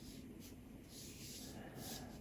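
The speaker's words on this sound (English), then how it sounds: "Sketching his feet now." A pencil sketching on paper while drawing WALL-E's feet, a soft continuous scratching with rhythmic swells of stroke noise, faint and close.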